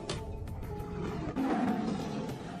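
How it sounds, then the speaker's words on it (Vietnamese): A mutant tiger lets out a furious, sustained roar in a post-apocalyptic zombie setting, loud and close, rumbling deep and rising in force midway through before trailing off. "Lúc này, một tiếng hổ gầm cuồng bạo vang lên"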